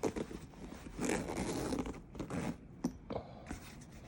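A zipper being pulled open on the soft case of a Pedaltrain Metro 20 guitar pedalboard, with close, raspy zipping strokes and a few scraping clicks, fairly quiet with no talking.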